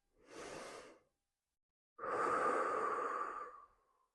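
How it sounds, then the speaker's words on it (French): Two slow, deep breaths taken during a calm guided relaxation: a soft airy inhale of about a second, a pause, then a longer, fuller rush of breath lasting over a second and a half, close and intimate with no talking. "prenez une grande inspiration"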